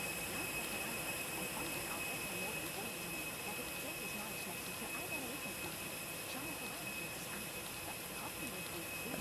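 Steady, even whine and rumble of Airbus A340-300 jet engines in a Lufthansa livery within the X-Plane 12 flight simulator, a constant loud drone with a thin high tone running unchanged throughout.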